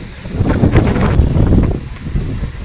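A strong headwind blows across a cricket ground during a tournament match, a loud, steady roar of gusting wind buffeting the microphone with no other sound.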